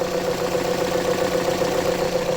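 A car engine runs steadily at idle with a constant mid-low hum and a faint knocking texture, heard close and loud with no talking.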